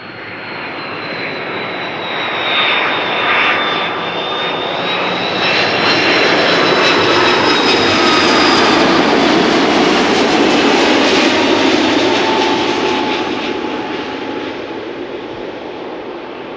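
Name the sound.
Boeing 777-300 jet landing at Amsterdam Schiphol Airport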